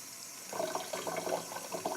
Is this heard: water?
yes